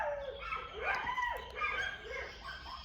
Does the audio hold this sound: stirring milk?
no